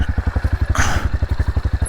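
A trials bike engine throbs in a fast, even pulsing idle as the rider goes down a steep snowy slope at 4,500 m in Kangding, Sichuan, close and loud, with a brief scraping rush partway through.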